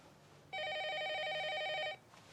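A telephone rings once in a single steady electronic burst of about a second and a half, warbling and fairly loud, then stops, with no voices over it.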